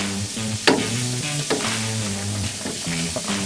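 During a beer brew day, a paddle stirs the mash in a loud steady churning wash with occasional splashy knocks, over a persistent mechanical hum.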